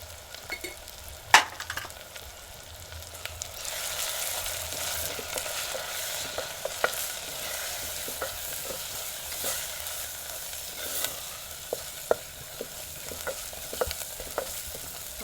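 Spice masala with garlic and dry red chilli fries in a pan for mung beans, a soft steady sizzle broken by frequent light clicks and scrapes of stirring.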